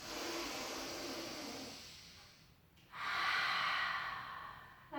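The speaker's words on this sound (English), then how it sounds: "Take a breath in." Breathing during an intermediate pilates exercise: a long airy exhale that fades, a brief pause, then a deep, forceful inhale, close and fairly loud, with no talking.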